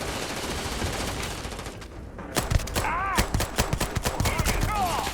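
Gunfire from the video game Starfield, with a quiet stretch followed by a close, loud burst of rapid shots in quick succession and overlapping game sounds, without talk.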